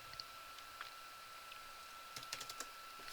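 Quiet typing on a computer keyboard, several quick key taps clustered near the end with a few scattered single clicks before, over a steady electronic hum and faint room noise.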